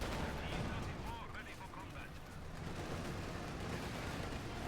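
Dense, continuous battle noise from Company of Heroes 2, with rocket artillery and gunfire layered into a steady, loud roar that holds through the whole stretch with no clear individual shots standing out.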